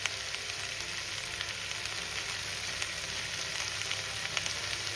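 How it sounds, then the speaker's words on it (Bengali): Ivy gourd (kundru) sizzling in a pan with oil, a steady, even crackle and hiss that stays close and constant for several seconds with no talk. "না, এটা এইভাবেই শুধু ভেজে রান্নাটা হবে।"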